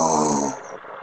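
A storyteller's voice imitates a rabbit snoring with one drawn-out, rasping, close snore that fades away.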